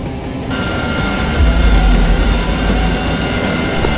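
A jet engine roars steadily and loudly during a run-up before takeoff in a combat flight video game, with a deep low rumble that swells after a brief quieter start and then holds.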